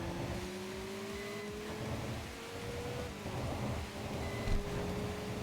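A race car engine in the video game TXR 2025 holds a steady tone that climbs slowly as the car accelerates, with constant loud road and wind noise and rumbling underneath.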